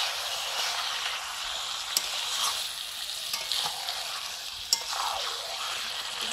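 Chicken pieces frying in hot oil and spices, with a steady sizzle and occasional scrapes and clinks as the meat is stirred, close and continuous with no talking.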